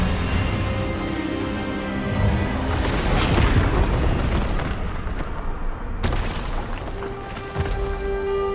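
An Expelliarmus spell from the Hogwarts Legacy video game bursts out as a loud, booming magical blast that swells into a rumbling roar. A sharp cut follows, then lower-level tones.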